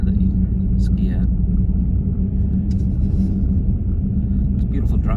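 A car driving along a road near Anchorage, Alaska, heard from inside as a steady low rumble of engine and tires, with people talking faintly over it.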